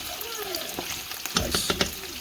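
Homemade Italian meatballs sizzle and fry in a pan while being turned, with a steady crackling hiss and a few sharper knocks and scrapes near the end.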